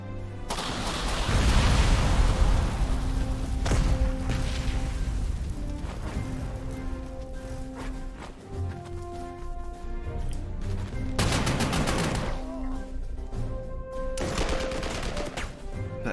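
Combat in the Panzer Corps 2 wargame, with sustained gunfire, rapid bursts and booming explosions; loud heavy blasts near the start and again midway over a continuous battle din.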